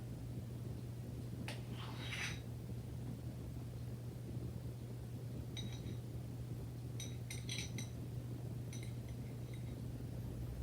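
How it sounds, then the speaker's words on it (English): A teaspoon spoons deviled-egg yolk mixture into halved egg whites on a dish, making several light, sharp clinks in small clusters over a constant low hum. "So now I'll take a teaspoon and put some of the yolk mixture into each part of the egg white."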